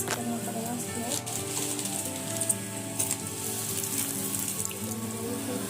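Slices of bread frying in ghee for shahi tukde, a steady crackling sizzle running throughout under background music, with no clear pauses.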